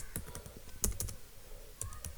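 Quick, light keystrokes on a computer keyboard, a short burst of close taps followed by a pause and a few more clicks, quiet and alone with no voices.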